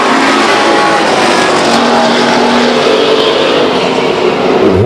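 Race cars thunder around the Stockton 99 Speedway oval as the 5 and 0 cars battle into turn three, a loud, continuous roar of engines close by with no voices.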